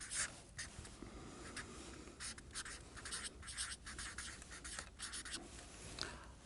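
Numbers are written by hand with a pen scratching on paper in short, irregular strokes and pauses, close and fairly quiet, with no talking.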